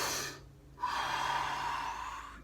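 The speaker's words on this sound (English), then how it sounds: "Big breath in. Give it fully." A deep breath drawn in through the mouth, a short gasp followed by a long, steady, airy inhale, close and clear.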